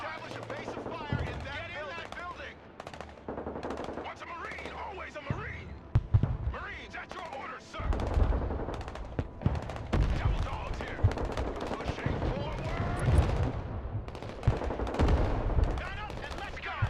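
Mortar blasts and rapid gunfire from the video game Broken Arrow, dense and continuous with bursts and booms throughout, loud and busy under a player's excited talking.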